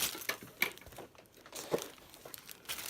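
Plastic bag packaging crinkles in quiet, irregular rustles and crackles as something is unwrapped, with no voice present.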